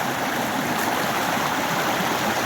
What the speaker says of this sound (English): I'm thinking of crossing this stream here if I can, and without getting too wet